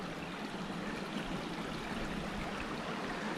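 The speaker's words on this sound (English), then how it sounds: "Beautiful little stream." A small forest stream flows steadily nearby, its broad, even rush of water continuing unbroken with no voices or other sounds.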